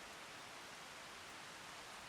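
Rain in the farming game Farming Simulator 25, a faint even hiss of steady rainfall without pauses or other sounds.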